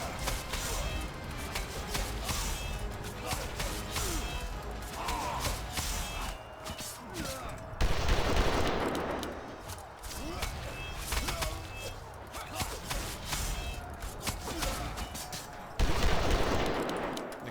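Gunfire from the video game Captain Blood rattles in dense, rapid bursts throughout, with louder blasts near the midpoint and end, mixed with other game sounds.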